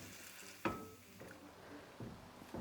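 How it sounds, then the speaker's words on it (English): Cooked vegetables being mashed with a masher in a pot, producing soft squishy thuds and wet pressing sounds, a few distinct presses over a low background hiss. "then with the masher, you can mash the vegetables."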